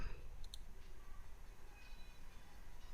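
A single mouse click on a software button in an ERP program, faint and brief near the start over quiet room tone.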